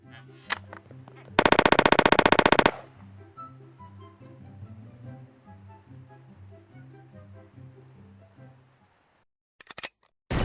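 A loud, rapid burst of automatic-sounding gunfire lasting about a second, then a rhythmic low mechanical pattern and a few sharp clicks near the end; firearms named are an AR-15 rifle and a shotgun.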